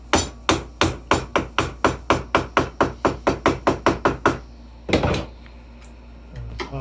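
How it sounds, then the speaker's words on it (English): Mallet strikes driving a chisel into wood to chop out dovetail waste, a fast even series of about twenty close sharp knocks, then a brief scrape and quiet. "I come in here with my chisel, and I'm going to take out a little piece"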